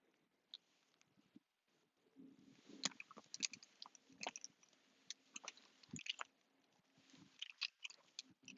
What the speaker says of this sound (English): Chew, you silly beast.